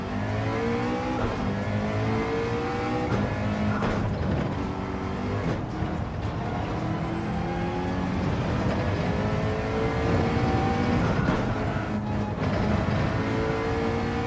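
A McLaren race car engine in Gran Turismo 7, a steady loud drone with rising and falling harmonic sweeps as it revs through gears, continuous and close for the whole stretch.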